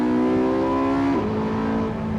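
A Porsche 918 Spyder in race mode with manual shifts roars loudly and steadily after a downshift, its engine pitch climbing, dipping briefly at a gear change, then rising again, close and without talk.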